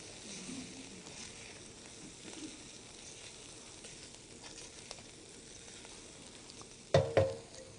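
Aromatics sautéing in fine oil in a pan, a faint, steady sizzle with light stirring, ending in two louder clattering knocks.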